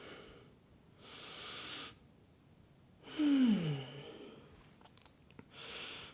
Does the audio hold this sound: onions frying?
no